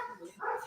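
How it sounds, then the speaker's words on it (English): Dogs bark briefly somewhere in a house, a couple of quick, muffled yaps at moderate distance. "Stupid dogs."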